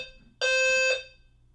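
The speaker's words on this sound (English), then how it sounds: "Fire alarm work across the whole building." A fire alarm sounds through a building, one loud, harmonically rich electronic tone held for about half a second and then cut off, heard alone with low background hum.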